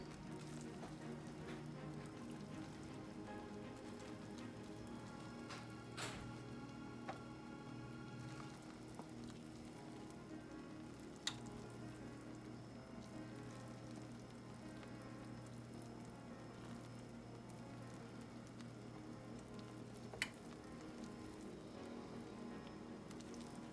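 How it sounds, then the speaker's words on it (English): Chicken and dumplings simmering in a pot, a soft, steady bubbling and crackle with occasional sharper pops, faint and continuous. "you can see it bubbling right here"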